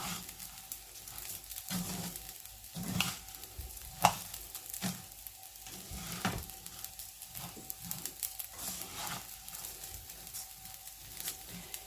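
Basmati rice toasting dry in a hot pan, some grains turning brown, giving a steady soft sizzle and crackle with light scraping stirs and occasional sharper clicks throughout.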